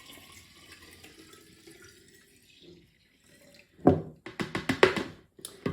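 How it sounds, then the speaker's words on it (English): Apple cider juice poured from one jar into a half-gallon jar, a quiet start followed by a burst of splashing, gurgling liquid in uneven spurts, close and fairly loud. "Now what we're going to do is we're going to pour this from there into here"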